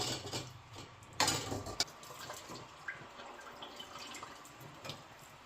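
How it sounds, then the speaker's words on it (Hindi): Homemade paneer being rinsed with lukewarm water: faint, close drips and small splashes with a few louder sloshes early on, then scattered quiet trickles. "तो वॉश करने के लिए है ना ल्यूक वार्म वाटर यूज़ करें, थोड़ा-सा हॉट वाला ही।"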